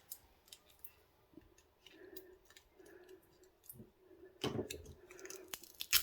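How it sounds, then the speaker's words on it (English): Knife cutting the plastic insulation off copper wire from an amplifier: quiet scraping and ticking at first, then sharper crunching slices and snips near the end, close and faint overall, with no talking. "I have a knife and I'm going to try and cut a bit of this plastic off"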